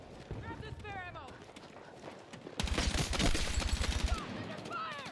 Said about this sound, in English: Under fire!